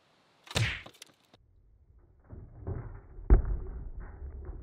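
A metal spike is driven into a helmet with a sharp thwack, then a quieter rustle and a second heavier knock follow, nearby and without any voices.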